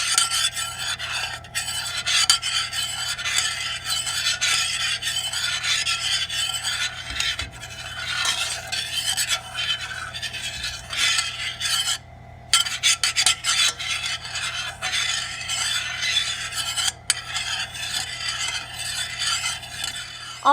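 A spoon stirs heated honey and sorghum cough syrup in a pot, a long run of scraping and rasping strokes with brief pauses and no talking.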